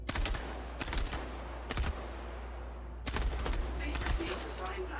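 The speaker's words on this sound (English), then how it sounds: "First, let's listen to some of our weapon sounds in action." Sci-fi weapons from the Star Citizen game fire in short bursts of sharp shots, several separate volleys spaced across a few seconds over a steady low rumble.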